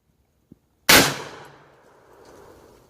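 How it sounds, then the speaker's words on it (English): A percussion cap black powder rifle fires once at close range, a sharp loud report followed by a long, fading rumbling tail, with a faint click just before. "Now they could discharge the firearm in a safe direction by squeezing the trigger."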